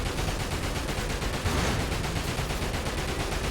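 Gunfire in the video game Dirge of Cerberus comes as a dense, continuous barrage of rapid, loud shots close up, with no talking.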